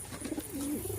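A pigeon in a backyard farm enclosure gives a soft, close coo with a low drawn-out note, over faint ambient background and no talking.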